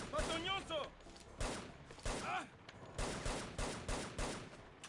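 Repeated bursts of gunfire ring out in a shooter match in the video game Shadow Ops: Red Mercury, sharp cracks and volleys through the scene, with voices talking over parts of it.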